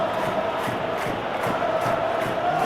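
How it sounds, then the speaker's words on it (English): A stadium crowd in a football video game roars in a steady wash of cheering and chanting, loud and continuous throughout with no single standout voice. "Crowd calling for him to shoot"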